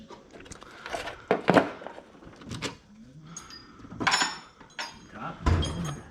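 Socket dropped into the top drawer of a toolbox while working on a 1988 Ford Ranger starter, giving close metal clinks and drawer knocks mixed with a few sharp taps, with someone talking alongside.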